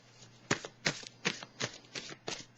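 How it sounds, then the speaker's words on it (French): Tarot cards handled while one is drawn from the deck: a run of six or seven crisp, papery flicks and slaps in a steady rhythm, close and fairly loud, with no talking. "Je vais piger une carte, un message de l'univers"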